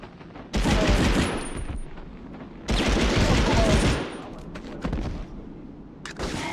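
Bursts of MP4 automatic gunfire in the video game Medal of Honor: Underground, two long loud volleys about two seconds apart followed by shorter scattered shots, close and dominant.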